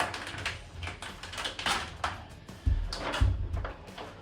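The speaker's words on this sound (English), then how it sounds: "And then you can peel this protective film off." Protective backing film is peeled off a sheet of window film during a house renovation, giving close, crackling, ripping bursts in an uneven rhythm, broken by a few dull thumps.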